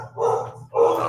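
Two loud, close dog barks in quick succession, each a short harsh bow-wow with no talking over them.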